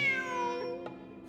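A cat in the video game Genshin Impact lets out a single close meow that falls in pitch, quiet and clear, with no talking over it.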